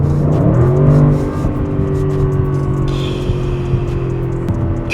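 A 2025 Audi RS6 Avant Performance accelerates hard, its engine a loud, close, sustained drone that holds a steady pitch after a brief initial shift, with no one talking.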